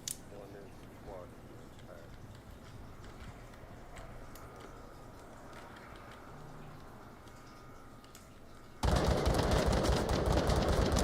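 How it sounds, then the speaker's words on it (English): Scattered gunshots crackle through a tense multiplayer match of Onward, the VR military shooter, mostly at moderate distance under steady voice chat, before a louder, denser burst of fire erupts near the end. "A lot of shots going out on Nightshade"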